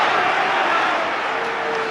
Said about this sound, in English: Crowd getting a little bit restless now